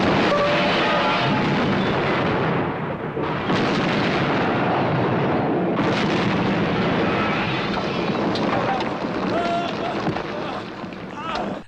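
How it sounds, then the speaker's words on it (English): Several loud explosions roar through a film action scene as a trap goes off inside a headquarters building, with heavy rumbling blasts and crackling debris running nearly continuously and densely layered from start to finish. "And they all fucking explode."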